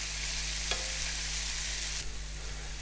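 Lamb pieces for souvlaki sizzling steadily in a pan, a close, even crackling hiss with a brief clink near the start and a slight drop in intensity toward the end, no talking.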